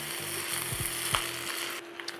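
Chicken fried rice sizzles and fries steadily in a hot pan while being stirred and mixed, with soft scraping knocks from the stirring over a continuous crackle.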